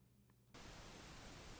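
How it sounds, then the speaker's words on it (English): White noise from a VST plugin in FL Studio switches on abruptly after a brief quiet moment and then holds as a constant broadband hiss. "You're going to hear the white noise"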